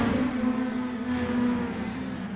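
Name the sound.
race cars (mini stocks) racing on track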